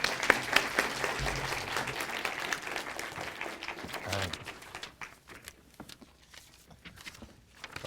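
Audience clapping to welcome a Chinese minister to a university lecture, a dense burst of applause that gradually thins and fades into scattered claps and room noise.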